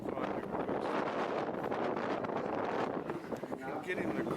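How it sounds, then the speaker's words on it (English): Wind buffeting the built-in camera microphone aboard a boat heading up Panama Bay toward the canal, a constant loud roar and rumble with gusty flutter throughout. "As we head up the bay towards the canal, the wind picks up"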